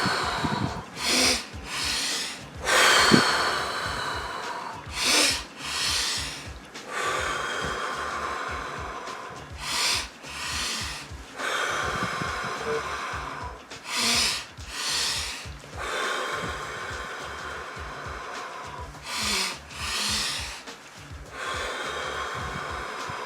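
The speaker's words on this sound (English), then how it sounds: "the inhale has 2 parts to it, and then the exhale is slower than the inhale" A breathing exercise with a two-part inhale followed by a slower exhale, heard as loud, close sniffing inhales and long airy exhales repeating in a regular cycle, with no talking.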